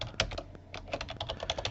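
Quick, close clicking of a computer keyboard as a folder name is typed, a fast irregular run of keystrokes with a brief pause partway through and no voices.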